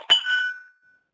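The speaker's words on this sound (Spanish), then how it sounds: "Esa campana siempre debe sonar porque es un indicador de baja presión." Low-pressure alarm bell of an MSA self-contained breathing apparatus, a single bright metallic ding struck once that rings out and fades within about half a second, alone and close.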